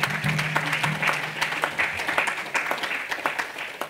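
A church congregation applauding during a sermon, sustained dense clapping from a crowd at close range, with faint voices mixed in.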